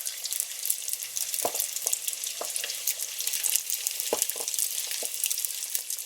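Cheeseburger lumpia hiss and crackle quietly in hot oil, a soft continuous sizzle broken by a few sharper pops and light tool clicks. No voices.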